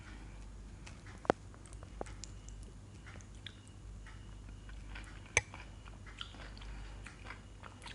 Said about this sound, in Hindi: तो मैं तो एक बाइट और लूँगा।